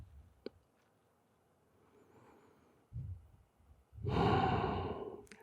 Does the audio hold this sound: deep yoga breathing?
yes